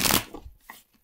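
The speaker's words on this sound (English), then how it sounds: "I'm going to shuffle these cards" Tarot cards being shuffled by hand: a loud riffling burst at the start, then a few softer papery flicks and taps fading toward near silence, with no voices.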